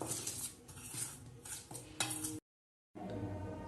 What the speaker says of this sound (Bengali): একবার এটাকে ভালো করে মিক্স করে দেবো চামচ দিয়ে